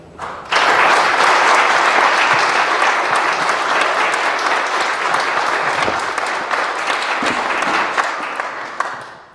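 An audience bursts into warm applause for a speaker being welcomed, clapping loud and sustained for about nine seconds before gently tapering off near the end.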